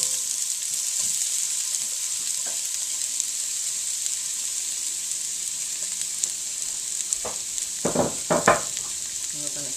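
Home-fry potatoes sizzle steadily in a pan of hot olive oil, a close, even hiss that runs throughout with no talk, broken near the end by a few louder scraping stirs.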